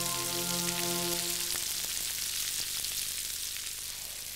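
Onion, peppers and chorizo fry in a pan with a bright, steady sizzle and scattered pops, close and even, fading slightly toward the end with no voices.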